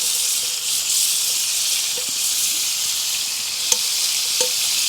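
A knob of butter sizzles in a hot pan at a cold-weather woodland campsite, a steady bright hiss with a few faint pops and clicks, no voices.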